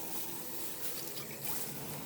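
Water runs steadily into an automatic drinker in a racing-yard horse stable, a continuous close trickle and splash of refilling with no talk.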